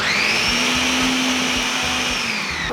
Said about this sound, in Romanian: Acum dau din nou drumul la robot și amestec totul bine.